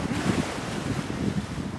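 Ocean waves roll onto the beach at Virginia Beach, a steady near wash of surf mixed with wind rumble against the microphone, no voices.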